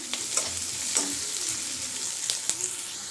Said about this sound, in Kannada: ಆನಿಯನ್ನು ಲೈಟಾಗಿ ಕಲರ್ ಚೇಂಜ್ ಆಗೋಂಥದ್ದು ನಾವು ಈ ಥರ ಫ್ರೈ ಮಾಡ್ಕೋಬೇಕು